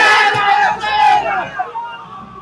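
Supporters of Amit Baghel, massed in a large crowd, shout together in a loud, close, dense roar of raised voices that fades slightly toward the end.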